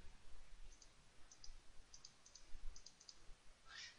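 Computer mouse clicked repeatedly while working in Photoshop, a series of quick, light, fairly close clicks spaced irregularly, mostly in pairs, over quiet room noise with no talking.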